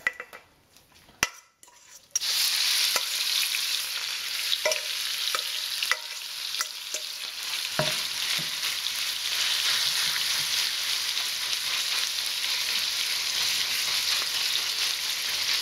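Pork hits a very hot wok and bursts into a loud, steady sizzle that carries on unbroken, with a few clinks of utensils against the pan just before it starts.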